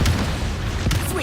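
Rocket explosions in the video game Dune: Awakening, one short heavy boom among low rumbling, with a voice nearby.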